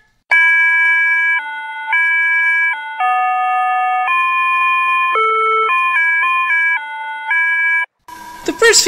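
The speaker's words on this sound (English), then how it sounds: "The first few episodes make use of a classic Japanese crosswalk tune, Torianse, a classic little ditty for children about safely crossing from one place to the next" Japanese crosswalk signal melody Toryanse plays as a steady electronic tone tune, a sequence of sustained notes stepping up and down for about eight seconds, loud and alone, ending with a brief burst of noise.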